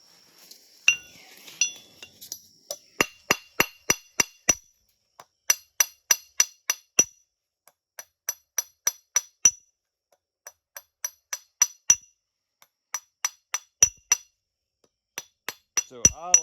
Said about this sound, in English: So I like chipping glass.